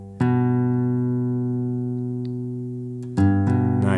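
An open A string on a guitar is plucked and left to ring for about three seconds, fading gently, then plucked again twice more in quick succession; close and clear with no talk.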